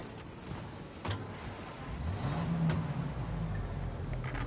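A car drives in a Mafia game, its mid-pitched engine rising in a rev as it accelerates, alongside a few sharp clicks and some road noise, with no voices.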